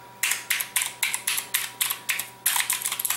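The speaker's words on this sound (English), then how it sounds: "Now these are equipped with the Cherry MX Blue switches." A Razer OrbWeaver keypad with Cherry MX Blue switches clicks in a quick, regular series of about a dozen sharp, crisp keystrokes, close and alone, with a faster flurry at the end.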